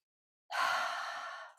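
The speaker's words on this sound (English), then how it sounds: "Take a deep breath" A single deep breath, close and fairly quiet, drawn in and let out as a long airy sigh during an intenSati exercise, alone after a moment of silence.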